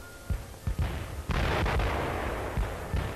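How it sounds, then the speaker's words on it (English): Russian artillery fires in repeated heavy booms over a sustained rumble of battle. The shots land at irregular intervals, some near and loud, others duller and farther off. "Russian artillery opens up in their midst"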